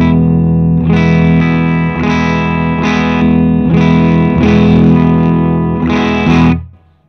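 A vintage Gibson ES-335 or Custom Shop 1962 ES-345 electric guitar rings out in six loud strummed chords at an even pace, sustained and full, the last chord cut off to silence.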